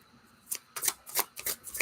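Tarot cards shuffled by hand at a desk, several crisp riffling swishes in quick bursts, close and fairly quiet with no talking.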